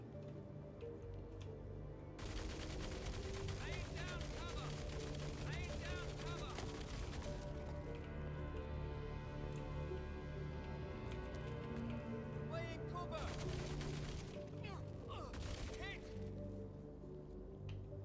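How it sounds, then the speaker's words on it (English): Gunfire in a Die Hard video game, heavy bursts of rapid shots that start and stop in two long loud stretches over a droning background, with talking heard at times. "Suppressing fire."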